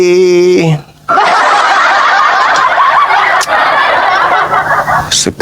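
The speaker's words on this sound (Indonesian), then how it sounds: "burung. Kok ramai?" A loud, dense chorus of many birds calling and chattering continuously up close, following a brief tonal sound at the start.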